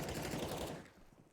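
Rapid bursts of Mag-7 shotgun fire in CS:GO on the Nuke map, loud and dense for most of a second before fading into quieter trailing noise.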